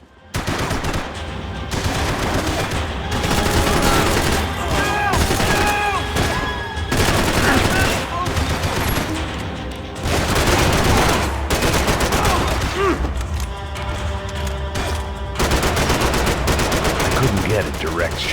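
Sustained gunfire from a Max Payne 3 shootout: rapid bursts and single shots ring out in dense, loud waves over nearly twenty seconds, with brief lulls between volleys and occasional voices mixed in.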